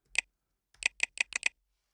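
Keys on a computer keyboard tap out a password: one crisp click, a short pause, then a quick run of five close, sharp keystrokes in a quiet room.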